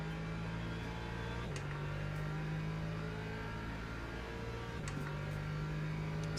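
A McLaren race car in the sim racing game Le Mans Ultimate, its engine drone holding steady and loud with brief pitch shifts as it closes in, under a continuous in-game engine hum.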